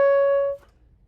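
Single sustained saxophone note, the B flat above the staff played with the octave key, held clear and steady for about half a second before cutting off, then near silence.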